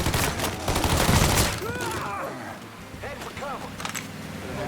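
Gunfire in the Mafia III video game: a dense, loud burst of rapid shots that fades out, with shouting voices heard over and after the shooting.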